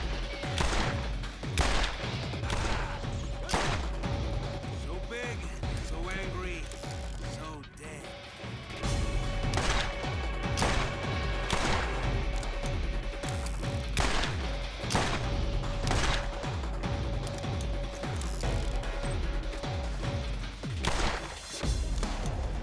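Repeated pistol shots in the looter-shooter game Borderlands, set in Fyrestone, firing in dense rapid bursts layered with mechanical clanks and game effects, loud and nearly continuous throughout.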